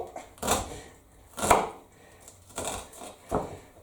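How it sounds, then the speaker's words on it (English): A knife chops food on a board in four or five scattered, soft thuds with pauses between, quiet and close in a home kitchen. "I'm just going to get to the end of this bit of chopping"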